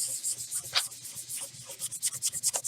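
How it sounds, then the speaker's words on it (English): Quick hand sanding with a multi-sided sander on a small art card coated with green Posca paint: soft, raspy rubbing strokes, close and fairly quiet, speeding into a steady back-and-forth rhythm toward the end, with no talking. "I'm just going to give this a quick sand just so that it has some tooth"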